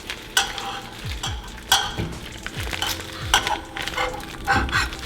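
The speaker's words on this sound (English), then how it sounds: "we're just gonna go ahead and gently lay them on the side of the skillet" Vegan sausage links frying in a skillet, with a steady low sizzle broken by sharp scrapes and clinks of a utensil against the pan, close up and with no talking.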